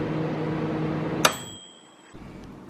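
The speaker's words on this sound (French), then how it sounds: "Je vais mettre tout ça au micro-ondes" A microwave oven reheating rice and beef-filled savoury bao runs with a steady low hum, then a sharp beep and a click as the door opens, followed by quiet and another brief beep near the end.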